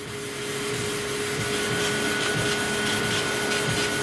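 A laser cutter making a deep, aggressive cut, heard as a steady close hissing whoosh like an air extractor with a faint high whine, and no voices.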